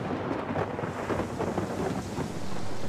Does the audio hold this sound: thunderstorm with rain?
yes